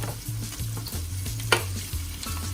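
Onions fry in oil in a pot with a steady sizzle and crackle, while a spoon stirs and scrapes in a regular rhythm of about three strokes per second, close and unaccompanied by any voice.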